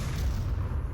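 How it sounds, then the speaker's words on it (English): A grenade blast in the VR shooter Onward booms loudly as a dense, sustained low rumble that fills the whole second without a break. "That was an excellent grenade"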